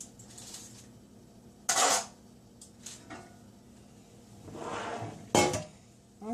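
Baked tofu loaf mixture being packed into a bowl, with a few sharp clinks and scrapes of a utensil against the dish separated by quiet pauses and a soft shuffling scrape.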